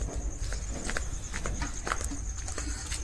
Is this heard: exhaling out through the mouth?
no